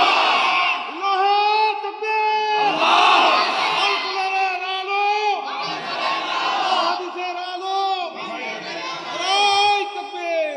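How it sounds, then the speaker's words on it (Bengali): A large crowd at an Islamic sermon gathering in Kuakata shouts the takbir, Allahu Akbar, in four loud, swelling bursts. A leader's voice calls between the chants. "দেন তাকবীর জোরে দেন।"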